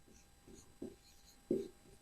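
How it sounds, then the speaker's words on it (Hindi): Chalk or marker strokes writing a heading on a classroom board, several short faint scrapes with two louder taps, set against quiet room tone. "एक हेडिंग लिखते हैं विशेषताएं।"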